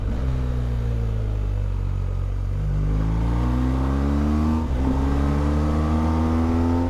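Motorcycle climbing a French Alps mountain col road, its engine note rising steadily through the gears in a loud, continuous drone with rising harmonic sweeps, heard from the rider's position with no talking.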